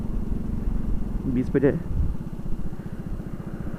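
A Honda CD 70 motorcycle fitted with CG 125 sprockets chugs at low speed in a steady, pulsing mid-pitched rhythm, close by and strong under a man's brief speech.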